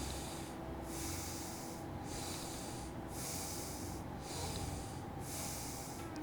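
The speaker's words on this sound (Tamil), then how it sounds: "கண்களை மூடி மெதுவாக மூச்சை உள்ளெழுத்து மெதுவாக மூச்சை வெளியிடுங்க." Slow yoga meditation breathing, in and out: a steady airy hiss of breath with a regular rhythm of swells and brief pauses, close and continuous, with no talking.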